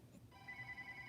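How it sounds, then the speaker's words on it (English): A phone rings faintly in a sewing studio, a thin electronic tone that starts after a short gap and holds steady for about a second, quiet and somewhat distant with no talking over it. "Of course, my phone is going to ring"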